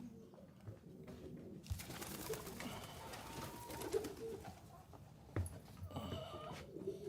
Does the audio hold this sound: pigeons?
yes